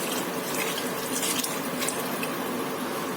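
Water pours steadily from a container over artichokes in a cooking pot, a continuous, fairly loud rushing splash with no pauses, heard alone in a home kitchen.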